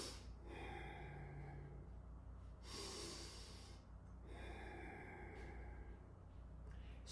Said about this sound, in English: first you start doing the bellows Bhastrika